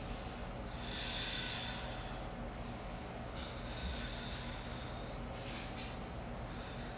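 Slow, steady breathing during a hatha yoga flow, with long airy inhales and exhales under a constant broadband hiss, soft and close, with no speech.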